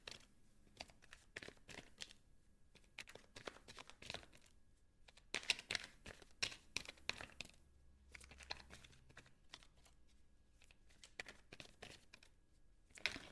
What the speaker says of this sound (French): En même temps que je tourne le tarot